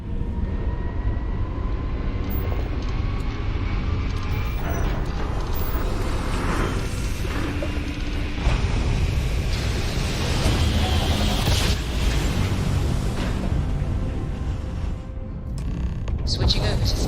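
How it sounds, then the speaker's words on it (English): Spaceship grav drop jump in the game Starfield: a loud, sustained rumbling roar with rising whooshing texture, steady throughout, under faint voices. "We're grav dropping."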